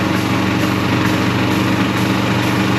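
A pump runs steadily while filling a John Deere 2038R tractor tire with Rim Guard, giving a loud, constant mechanical drone with no pauses and no talk.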